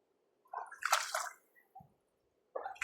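Bare feet stepping and sloshing through shallow water over pebbles and sand, a few close splashy steps separated by short quiet gaps.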